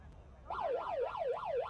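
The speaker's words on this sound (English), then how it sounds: "I heard the final siren go, and so did the referee" The final siren sounds at a rugby sevens match of the Asia Rugby Sevens Trophy at GBK Rugby Field in Jakarta. A loud, steady wail rises and falls in a regular warble over faint background noise.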